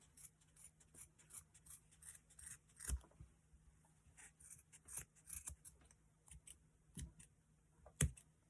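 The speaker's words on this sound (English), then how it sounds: "I'm just going to start cutting these apart." Scissors snipping apart the strings of a tassel for a Dollar Tree craft project: a series of quiet, close, crisp cuts at irregular intervals, with a sharper snip near the end.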